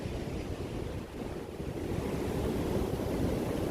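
Ocean surf rolls in along the Gambian coast, a dense continuous wash of breaking waves mixed with wind buffeting the microphone, loud and steady throughout with no voices.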